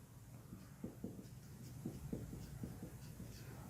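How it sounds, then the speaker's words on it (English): Marker or chalk writing on a board during a biology lesson, a faint series of short scratchy strokes in quick irregular bursts over a quiet room hum. "Let me write here."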